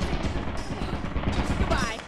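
Automated turret in the video game Lethal Company firing a dense, continuous stream of rapid shots, loud and close, with excited voices talking over it.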